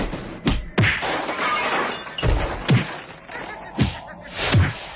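Punching sound effects from a TikTok land as sharp, heavy thwacks, five or six hits spaced about a second apart, each with a swishing whoosh and a low thud.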